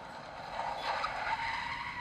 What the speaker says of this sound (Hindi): लाल रंग की गाड़ी मेरे ठीक पास आकर रुकी।